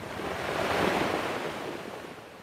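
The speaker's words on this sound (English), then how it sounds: "As the huge waves clawed at shorelines and rushed into people's homes" Storm surge waves crash onto the shore of a shallow bay in Nelson, a loud rushing roar of surf that builds and fades over a couple of seconds with wind noise and no voices.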